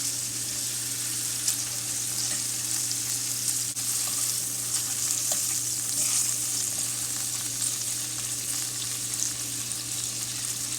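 Lobster pieces sizzle steadily in a hot frying pan, turned over onto the shell side, with a continuous broadband frying hiss and a low steady hum underneath.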